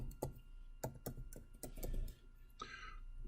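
Typing on a computer keyboard while entering text into PowerPoint: a burst of distinct, close key clicks in an uneven rhythm, followed by a brief rustling hiss.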